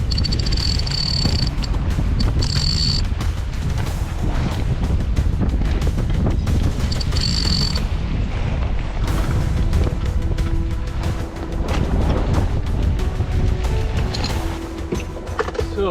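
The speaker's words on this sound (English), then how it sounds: "I'm gonna raise the sail once the wind dies down because it is wicked crazy out here" Strong wind at sea aboard a sailboat crossing the Pacific, a constant loud buffeting rush across the microphone with rattling and flapping noises, steady for the whole stretch with no talk.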